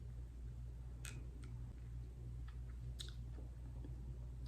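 Dried tamarind fruit chewed close up, with a few crisp bites and crunches standing out over a soft, steady background hum; no talking.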